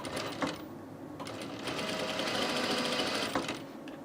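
Sewing machine running steadily while stitching along a shirt placket edge, a continuous whirring drone broken by a few brief pauses and restarts, close and clear.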